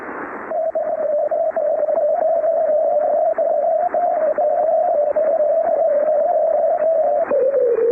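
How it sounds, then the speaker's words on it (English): Shortwave radio signal with a steady, pure whistling tone that holds its pitch through heavy static, wavers slightly, then slides lower near the end as the ionospheric path shifts. "You're hearing changes in the path length, the propagation path length with time, causing these pitch changes."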